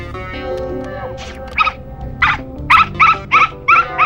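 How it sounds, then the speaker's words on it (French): A dog gives a series of short, sharp barks or yelps, about six in quick succession toward the end, preceded by a low rumbling background. "Jim, ce chien-là, vous pouvez m'expliquer ce qu'il fait dans mon établissement?"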